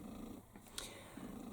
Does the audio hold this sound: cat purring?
yes